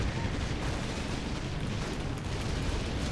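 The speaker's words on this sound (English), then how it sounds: "Didn't know the naval battery could shoot the control point." Naval battery artillery firing in Warcraft 3 during a large 8v8 battle, dense continuous booming and explosive bursts filling the mix, loud and steady throughout with game noise layered over it.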